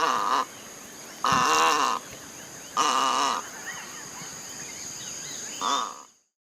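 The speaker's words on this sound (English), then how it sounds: "egret," An egret gives four harsh, raspy croaking calls, each about half a second long and spaced by pauses, loud and close over a faint background.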